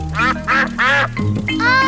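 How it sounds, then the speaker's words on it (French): Several loud, nasal duck quacks in quick bursts, close by, with short pauses between calls. "Peppa et George adorent donner du pain aux canards"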